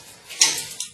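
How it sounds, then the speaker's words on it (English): A Schrade Extreme one-piece survival knife chops into material, giving two sharp, close impacts in quick succession, the first louder, with no talking. "Doing some chopping."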